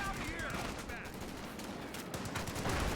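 MG-34 machine gun fire in the video game Company of Heroes 2 rattles in dense, continuous bursts amid wider battlefield gunfire, with a voice talking over it.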